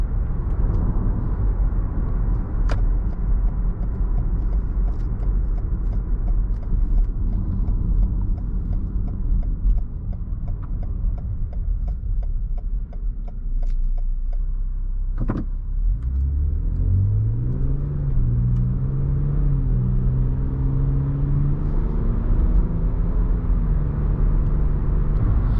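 A Lexus RX350 cruising on a highway: steady road and engine rumble throughout, with the engine note rising smoothly as the SUV accelerates partway through.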